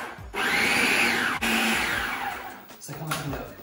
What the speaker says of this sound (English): Now to that I'm going to add about half of the sweet corn. And I'm going to blitz that, pulse it.